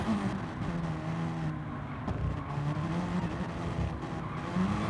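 Racing cars in a sim racing endurance game at the Catalunya circuit drone steadily, their engine pitches rising and falling through a chicane with a tire squeal now and then, a continuous dense layer of motor noise with no talking.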